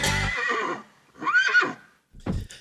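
A horse whinnies loudly and close in a few separate bursts, the first long and shrill, followed by a shorter call and a brief snort-like rise, used as a sound effect for a Beat a Dead Horse game segment.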